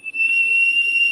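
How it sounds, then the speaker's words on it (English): A Petrie vape atomizer with its single coil set too high gives off a loud, steady, piercing whistle, a near and continuous pure tone for about a second. "The Petrie can be whistly if you bring your coils up too high, it'll whistle."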